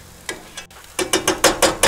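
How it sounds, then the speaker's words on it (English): Meat with onions and mushrooms sizzles in a pan, a run of crackling, bursting pulses that grows louder and more rapid after a short quieter stretch, with no talk over it. "I know you can only hear the sizzle"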